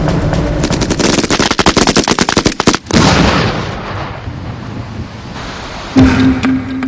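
A light machine gun fed from a 200-round box magazine, firing at about 850 rounds per minute, rips out a loud, rapid sustained burst of shots, then stops, leaving a fading echo in the open.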